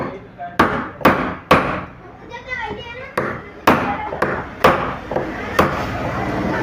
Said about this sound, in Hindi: किसी राड के ज़रिए से और हथौड़ी के ज़रिए इसको मार के बिठा देंगे